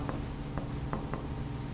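Chalk or marker scratches out an amount on a classroom board in a few short strokes and taps, close and fairly quiet against a steady room hum, with no talking.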